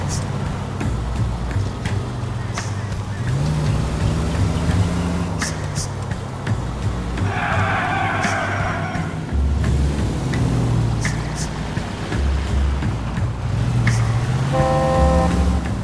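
Car engine drone from driving in the L.A. Noire video game, steady and continuous throughout with a brief horn-like tone midway, while people talk over it.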